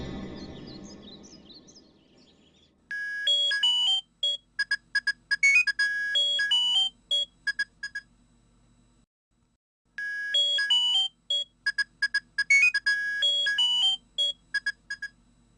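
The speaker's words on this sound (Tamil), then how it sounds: "ரிங் போயிட்டே இருந்தது, கட் ஆயிடுச்சுப்பா" Mobile phone ringing on an outgoing call, a bright electronic ringtone melody playing in repeated bursts, a pause, then another round of the same tune, close and clear.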